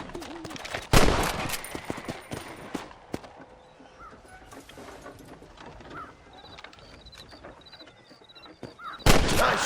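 Gunshots in Red Dead Redemption, a sharp loud shot near the start and another at the end, with faint game ambience, scattered clicks and hoofbeats between them.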